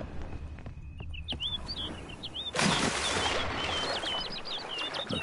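Bird taking off in The Witcher 3 game, a sudden burst of rustling wing flaps that stays as a broad hiss, with brief chirps before and a run of trilling calls after.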